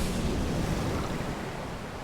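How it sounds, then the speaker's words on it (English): Water drains away in Final Fantasy XIV with a short, loud rushing wash like surf, fading slightly over two seconds. "Ah, and all the water drains too is a bonus"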